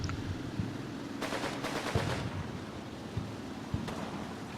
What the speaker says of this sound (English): Some fella very unwisely firing a MP40.